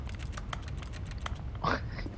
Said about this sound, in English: It's like computer clicking